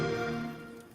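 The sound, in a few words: Xbox console sound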